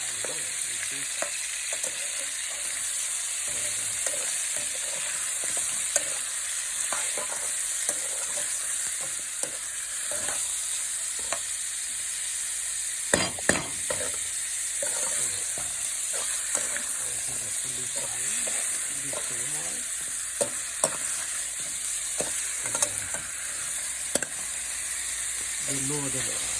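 Chicken masala sizzles steadily in a pan for Indian-style roasted murgh masala, a constant hiss broken by irregular scraping and stirring clicks throughout.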